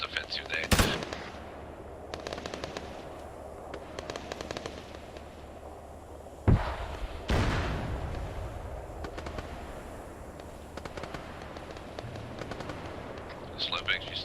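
Gunfire in the video game Arma 3: sharp, loud shots and bursts of automatic fire, some close and some distant, scattered across a tense stretch with a big blast partway through and players talking over the radio.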